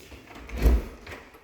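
A bifold-style interior door leading down to a basement in a Veazie home thuds as it is opened or closed, one short, soft, low bump in a quiet room.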